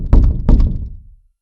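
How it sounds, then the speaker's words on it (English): Loud pounding on an outer door, two heavy thudding knocks close together, then fading, near and alone with no voices. "There came a loud pounding upon an outer door."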